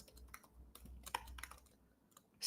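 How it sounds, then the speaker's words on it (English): Typing on a computer keyboard, with irregular bursts of close, crisp key clicks and brief pauses between them, ending in a louder clack. "I'm just typing this from my previous years."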